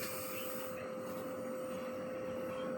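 An LG dual inverter 1.5 hp air conditioner running on a 12 V system, a steady close whirring fan hum with a constant tonal whine, unchanging throughout and without talk.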